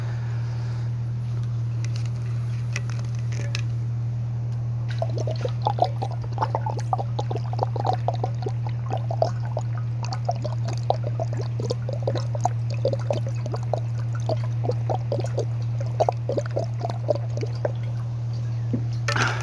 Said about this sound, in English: Let me get some water here